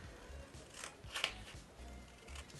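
Scissors snip through paper being cut out for a sketchbook, a quiet rustle of handling with one crisp, sharp cut standing out midway.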